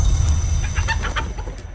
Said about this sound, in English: Fed the chicken.